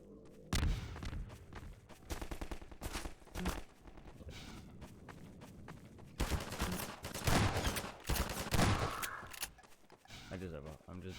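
Gunfire in the video game Half-Life 2, repeated sharp shot bursts and rapid volleys mixed with clattering effects and footsteps, with a person talking over much of it.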